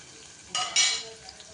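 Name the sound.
onions and green chilies frying and being stirred in pan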